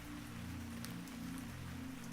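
Steady rain running across a curved copper dome roof, a dense continuous wash of patter with faint drips, constant and even with no voices.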